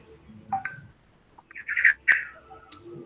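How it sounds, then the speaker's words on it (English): A bird chirping nearby in a few short, bright calls and squawks scattered over a quiet background, loud and clear with no talk. "Oh, the bird is very good."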